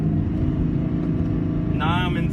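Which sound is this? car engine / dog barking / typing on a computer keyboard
car engine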